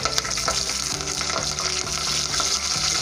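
Whole spices, bay leaf and curry leaves fry in hot oil for a chicken pulav, a loud dense crackling sizzle that holds steady throughout with a faint rhythmic low hum beneath, close and uninterrupted by voices.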